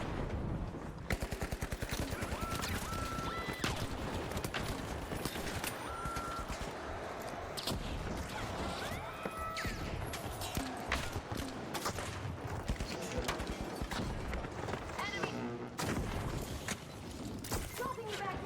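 Automated turrets in a zombie survival video game fire rapid, sustained bursts of gunfire for the whole stretch, dense and continuous with mechanical clatter, while a voice talks over it.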